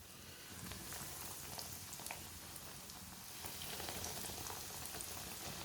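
Sandwich kebabs frying one by one in well-heated oil, a dense, even crackle and sizzle that holds steady throughout with no voices.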